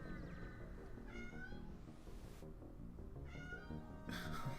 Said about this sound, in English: My cat's now smacking at the outside of the door.